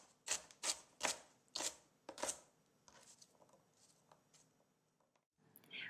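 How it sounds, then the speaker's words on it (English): A knife chops a broccoli stalk into small pieces on a cutting board, with about six crisp, evenly spaced thuds followed by several softer, lighter cuts close by. "then I will chop it into small pieces"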